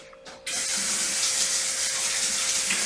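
Warm water gushes from a kitchen tap after a quiet moment, a steady, fairly close hiss of running water that carries on evenly without any talking.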